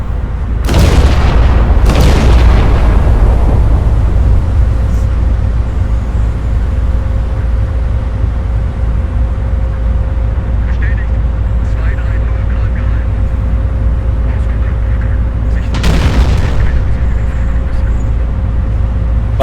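Battleship guns firing in a naval video game, two heavy booms early on and another later, each with a long rumbling tail over a steady engine drone.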